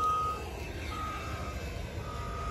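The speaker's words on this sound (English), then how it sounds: "so I made it here at the landfill" Ambience at a landfill site, dominated by a truck's reversing beeps sounding in a steady repeating pattern over a constant low engine rumble and distant machinery.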